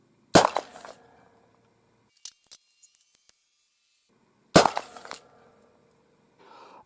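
12-gauge shotgun firing CETME-inspired slugs at a 100-yard target outdoors, two loud booming shots about four seconds apart, each with a short decaying tail, faint clinks of handling in between.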